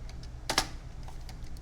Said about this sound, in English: then we're typing GPA and student involvement